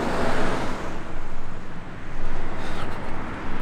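A truck passes by on a road outdoors, a loud, broad rumble that swells and holds steady over a few seconds, with some wind noise.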